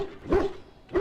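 A Mabari war hound in the game Dragon Age: Origins gives two short, deep barks about half a second apart, close and fairly loud with no talk.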